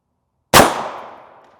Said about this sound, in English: This is M993, loaded in 300 Winchester Magnum velocities. We'll take that shot first.